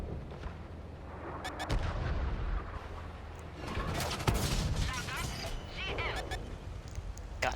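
Repeated heavy turret gunfire in a video game, booming shots going off at irregular intervals over a constant rumbling battle din, fairly faint in the mix.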